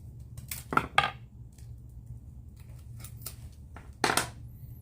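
Scissors snipping through a rose stem for a round box arrangement, two sharp clustered cuts near the start and another pair later, crisp and close against a quiet low room hum.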